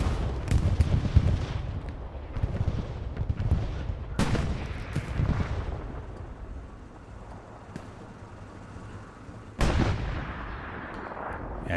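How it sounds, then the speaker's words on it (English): Katyusha rocket barrage and bombing run in Hell Let Loose on a night Kharkov map, rumbling low booms and rolling explosions with sharp blasts near four and ten seconds, dense continuous battle noise without speech. "Katusha and bombing run called at the same time."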